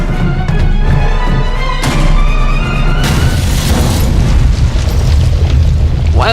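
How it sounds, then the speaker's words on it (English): A bomb explodes in the video game The Raven Remastered: a loud, heavy boom followed by a sustained rumbling roar and debris noise that continues without break. "Why was there a bomb inside?"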